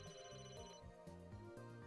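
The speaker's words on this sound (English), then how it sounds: "It's still ringing. Is it in his pocket ringing?" A phone rings in the video game Emio - The Smiling Man, a soft, steady electronic ringtone melody repeating in short patterned phrases, faint and continuous, with no talking.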